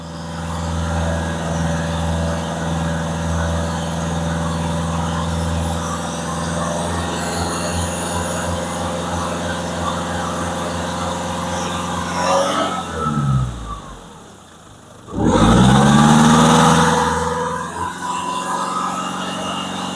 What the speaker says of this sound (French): Là, je l'accélère à quasiment 3000 tours, là, pour essayer que ça chauffe.